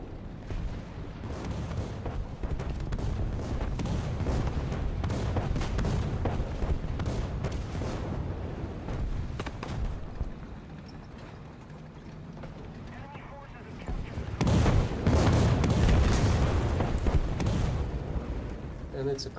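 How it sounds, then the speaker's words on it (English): Artillery strike explosions in the War Thunder tank game, sustained rumbling booms and crackling blasts that dip briefly then surge loudly again, with someone talking over them. "The feeling that it's time to drop another artillery on the B point was absolutely correct."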